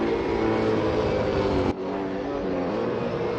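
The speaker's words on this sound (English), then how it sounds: "And Webster just gassing up the tyres as he gets going" A V8 Supercar in a racing video game, sustained loud engine drone with wheelspin under acceleration, cutting off abruptly midway and dropping to a lower, quieter engine tone.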